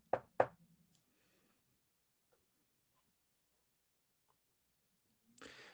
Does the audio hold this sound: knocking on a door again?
yes